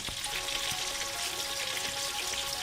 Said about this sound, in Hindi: हमारा घी जो है वो गर्म हो रहा है।